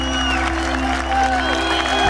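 Cricket crowd at an Ashes series presentation cheering and applauding, a steady roar of claps and whoops that stays loud and continuous throughout.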